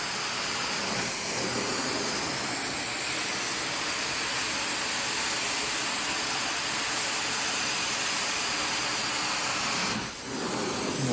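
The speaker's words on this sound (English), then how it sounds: "Steaming it out, sanitizing it," Carpet cleaning machine steaming carpet at about 220 degrees, a loud, unbroken roaring hiss of steam and suction that runs on evenly and dips only briefly near the end.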